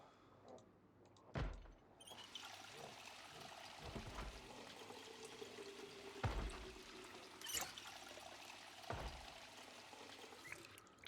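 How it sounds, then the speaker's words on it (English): Water trickles and pours as bottles are filled in the video game Project Zomboid, a soft steady flow punctuated by several sharp thuds and clunks, with no speech. "I am going to fill up my water bottles"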